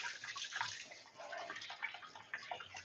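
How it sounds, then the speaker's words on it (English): Tap water running steadily in a kitchen while hot peppers are rinsed, a soft continuous hiss with faint splashes, low in level and without talk. "So I'll rinse this off as well."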